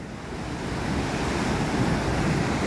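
Ocean surf washes continuously onto a beach at low tide, a broad, steady roar of waves with wind buffeting the microphone and no voices.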